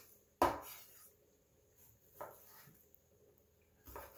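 Knife slicing chicken into thick pieces on a board, three separate soft thuds of the blade striking the surface, spaced about two seconds apart, close and quiet.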